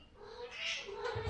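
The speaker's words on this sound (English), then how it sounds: "Okay, my cat is... He wants to enter." A cat lets out a faint, drawn-out, wavering meow, close by but quiet, with no one talking over it.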